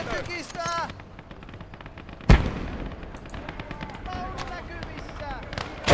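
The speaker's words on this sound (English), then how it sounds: "You're under heavy mortar fire." Heavy mortar and gunfire booming through a battle video game, with one sharp loud blast midway and steady crackling explosions under continuous voice chatter and game speech.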